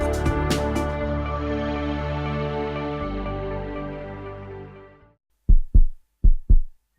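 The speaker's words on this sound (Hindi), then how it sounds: "मेरी बढ़ी हुई धड़कनों को सुन रही हो ना माँ?" Racing heartbeat of an unborn baby in the womb, a dense throbbing wash under music that fades out, followed by several distinct loud thumps in quick pairs near the end.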